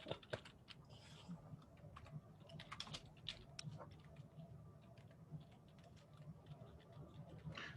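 Soft, irregular clicking of a computer keyboard being typed on while someone jots notes, quiet and steady across the stretch, with faint room noise and no talking.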